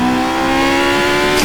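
A small Camaro is pushed into a drift, the engine revving hard with a steady whine and tire noise layered over it, loud and continuous, no voices.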